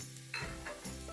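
Beetroot, carrot and onion frying in oil in a pan for borscht: a brief, soft, steady sizzle with a couple of stirring scrapes, close by and without talk.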